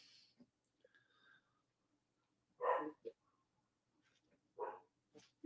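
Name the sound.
dog barking and whimpering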